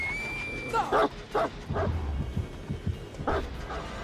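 A dog barks in the video game Dead by Daylight, where a hound accompanies a killer, giving several loud barks and yips in close succession over a steady game background.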